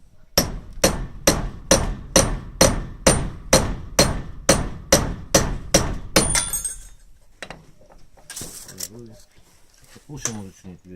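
A Yakut knife of ShKh-15 steel chops through nails in a run of about fourteen sharp, evenly spaced metallic strikes, loud and close, followed by quieter clinks and rustling handling.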